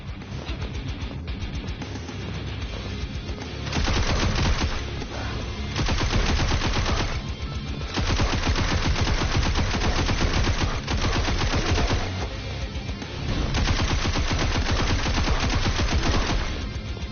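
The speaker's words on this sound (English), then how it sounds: "Smart gun." Rapid automatic gunfire from a video game smart gun, loud and continuous in long sustained bursts separated by short pauses, with no voices.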